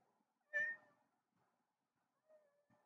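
A single cat gives one clear, fairly close meow with a harmonic, wavering tone, then a couple of softer, fainter calls follow after a pause in an otherwise quiet room.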